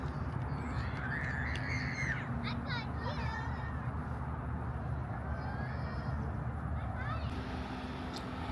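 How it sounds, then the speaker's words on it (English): Several harsh caws from a crow perched nearby, spaced irregularly and moderately faint over steady low outdoor rumble. "Y'all see this bird just sitting here?"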